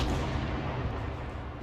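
Gunfire in a firefight in the video game ARMA 3, a loud, dense, continuous barrage of booming shots and rumble with no pause.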